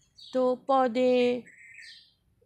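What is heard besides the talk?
sparrows and crows calling in the early morning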